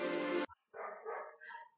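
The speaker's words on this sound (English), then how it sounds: "My damn dogs keep barking." Household dogs barking close by in a short, loud, harsh burst, then a brief pause followed by more barking and yipping.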